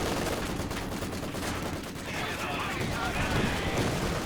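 Nebelwerfer rocket barrage firing in a Company of Heroes strategy game battle, a dense run of rapid bursts and blasts that swells toward the end, mixed with other battlefield noise.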